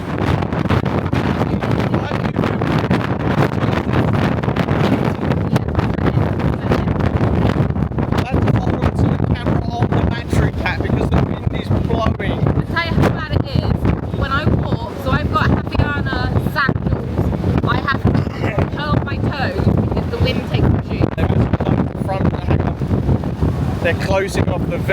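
Strong wind blowing across the top deck of a Disney Magic cruise ship under stormy skies near Castaway Cay, a loud, constant roar and buffeting on the microphone with voices talking beneath it.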